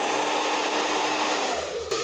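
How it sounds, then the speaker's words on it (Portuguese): A hair dryer blows on short hair, a steady, close, continuous whooshing hum with a brief click near the end, and no talking. "Aí, vai pro secador."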